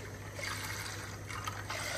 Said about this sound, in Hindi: थोड़ा सा पानी भी ऐड कर लीजिएगा